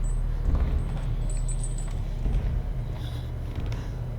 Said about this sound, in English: I hear chains and footsteps.